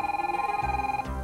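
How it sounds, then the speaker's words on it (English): Telephone ringing with a rapid trilling electronic bell, a steady fluttering tone that cuts off after about a second, followed by low rumbling handling noise. "Anuj gets a phone call asking him if he can come to a meeting that's starting in 15 minutes."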